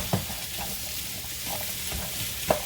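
Vegetables for pepper steak stir-fry in a pan with a steady, even sizzle and a couple of soft stirring knocks, close by and alone.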